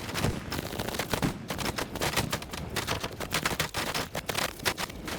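Dense, rapid gunfire crackles in a Vietnam-era Arma battle as an anti-aircraft gun opens up, a near-continuous burst of loud sharp reports with overlapping shots and no pauses.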